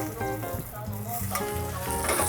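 Duck breast searing in a Le Creuset pot gives a continuous, moderately quiet sizzle and crackle throughout, with no talking.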